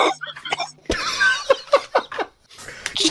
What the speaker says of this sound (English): I have not coughed all day, and then the moment that I put this headset on, I must be allergic to it. I start coughing.